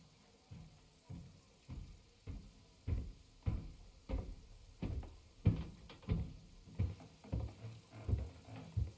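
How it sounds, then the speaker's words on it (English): Knocking on a castle gate in Kingdom Come: Deliverance II, a steady series of dull, muffled wooden thumps repeating about twice a second, fairly quiet and close, with no talking. "Try knocking again."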